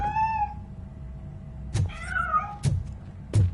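A cat meows several times, a drawn-out tonal cry at the start and another wavering meow midway, interspersed with sharp thumps and knocks nearby, no speech.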